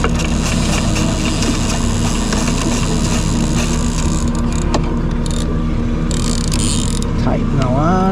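Fishing downrigger on a boat on Lake Moomaw lowering line to depth, a continuous loud mechanical whirring and ratcheting spool sound over steady engine rumble, close by, with no talk.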